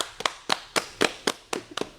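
Scattered clapping from a small group greets the R&D team, loose sharp claps in a sparse, uneven rhythm, fairly quiet and with no voices.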